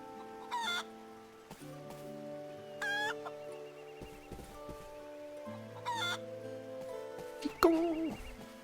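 A chicken in the video game Eternal Sonata clucks in short bursts over soft game music, with a louder squawk near the end; no speech.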